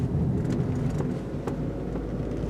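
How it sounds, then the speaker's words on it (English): A vehicle turns with a steady, close low rumble of engine and road noise from inside, broken by a few faint clicks and knocks. "Gotta turn the vehicle."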